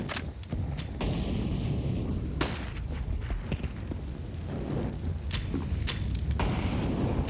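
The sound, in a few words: gunshots in Counter-Strike video game match on Vertigo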